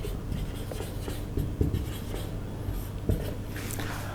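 A marker writing a definition on a board during a Class 11 chemistry lesson, steady squeaky strokes with a couple of sharper taps, close and with no voice over it.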